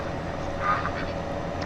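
Ducks or geese on the Lone Star farm in Farming Simulator 17 give a few short quacks and honks, moderately near, over a steady background hum.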